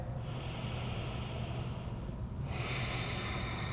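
A single slow, deep breath drawn during a yoga hamstring stretch, a soft close airy hiss that pauses briefly before easing out again, with no talking.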